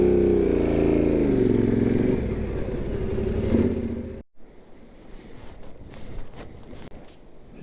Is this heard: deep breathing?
no